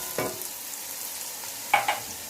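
Ginger, garlic and green chili paste hits hot oil in a pot for chicken yakhni pulao, giving a steady close sizzle with two brief louder bursts of spattering.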